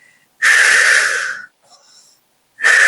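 Forceful breathy exhales during a Pilates leg-lift exercise, two loud hissing breaths close to the mic, the first lasting about a second, a brief soft sound between them and the second starting at the end.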